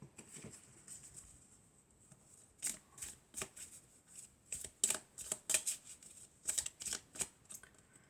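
Elf oracle cards being shuffled by hand, a string of close, crisp riffling slaps and flutters in an irregular rhythm, quiet and alone with no talking.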